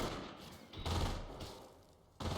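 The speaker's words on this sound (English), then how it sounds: "Good use of the MG there." Machine gun fire in a World War II real-time strategy game match, a rough burst of rattling shots amid dense battlefield noise, with a louder volley near the end.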